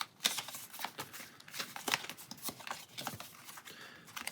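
Cards from the Pathfinder Adventure Card Game being shuffled at close range, a run of crisp riffling and snapping bursts repeating through the whole stretch with no one talking.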